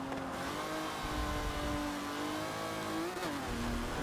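An Aston Martin DBR1 race car in the video game Forza Motorsport 7, its engine revving hard and steadily close up, with a pitch dip and rise near the end as it shifts or brakes.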